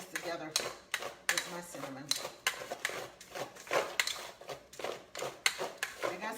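Cheesecake crust being stirred together with cinnamon in a pan, a steady run of close, sharp scraping and clinking taps of utensil against the pan, with no talking over it.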